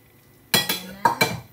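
Broccoli being added to a pot of mung beans in coconut milk, several sharp clinks and clatters of a utensil against the pot in quick bursts, close and fairly loud.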